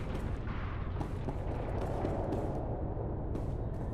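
Dense, continuous battle noise from sci-fi video game combat in Star Wars: The Old Republic, with rumbling blasts and gunfire layered into a loud, unbroken wash with no talk over it.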